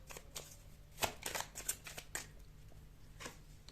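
Tarot cards shuffled and flipped by hand, a quick series of crisp papery riffles and slaps, close and moderately quiet, bunched in the first half and trailing off to a final soft rustle.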